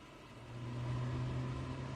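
The right jet engine of a Su-27 starting up in DCS, a steady low droning hum that swells louder over a couple of seconds.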